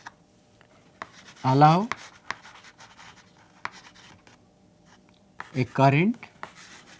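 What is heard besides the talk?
writing on a board during a lecture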